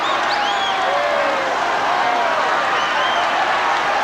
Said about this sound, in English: The crowd on his feet